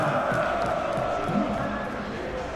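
Large stadium crowd at a Champions League night match between Inter Milan and Liverpool in the PES 21 football game, a dense, steady roar with swelling cheers and shouts throughout, close and loud.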